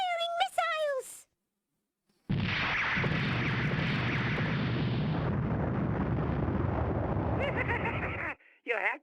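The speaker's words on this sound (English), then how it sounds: "Target the Colossus! Launch missiles! Firing missiles!" Missiles launch and explode in the Misadventures of Tron Bonne video game, a loud sustained roaring blast lasting several seconds, framed by short synthetic voice chirps before and after.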